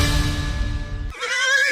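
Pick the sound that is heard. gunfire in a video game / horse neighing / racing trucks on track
horse neighing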